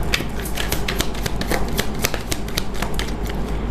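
Tarot cards are shuffled close up, a dense run of rapid papery riffling flicks with steady rhythm and no pause, no talking.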